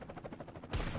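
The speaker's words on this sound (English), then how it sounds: "Is that the aforementioned grenade? I mean, it was a grenade." A grenade bursts in the artillery video game Worms Battlegrounds: a sudden, heavy blast with a deep rumble cuts in about two-thirds through and lingers, after a stretch of quieter, pulsing game sounds.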